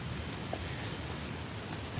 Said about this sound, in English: Probably because it's pouring down rain, though.